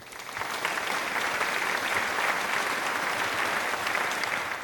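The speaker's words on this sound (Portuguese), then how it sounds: "Aplausos para ele." Sustained applause fills the room throughout, steady and fairly loud with a dense clapping texture, cheering a Vasco player after a 3-0 Brasileirão 2025 win over Bragantino.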